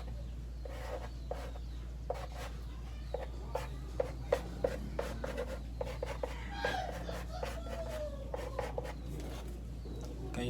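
Marker drawing a skeletal chemical structure on a board, a series of short sharp scratchy strokes in irregular bursts over a low steady hum, with faint murmuring in places.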